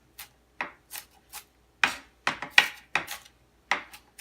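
A knife finely chopping onions on a cutting board, a series of crisp, irregular taps, sparse at first and then quicker, close and fairly quiet.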